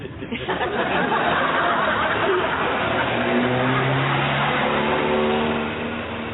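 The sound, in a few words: car passing along a street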